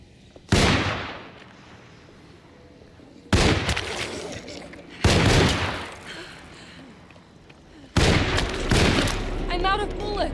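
Gunfire in the survival-horror game Alone In The Dark: four sharp, loud shots spaced a second or two apart, each with a booming decay, with a faint voice between them.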